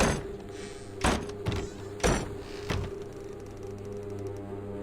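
Someone in a video game set in an amusement park tries a locked door, producing four heavy mechanical clunks and rattles spaced about half a second apart over a quiet ambient drone.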